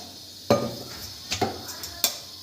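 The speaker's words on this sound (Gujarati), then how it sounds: "આ તરવા માટે હું આ લોખંડની કઢાઈ લઉં છું." Iron kadai handled on the stove before frying potato bhungla, giving three sharp metallic clinks and knocks spaced across a quiet kitchen background, close and fairly loud.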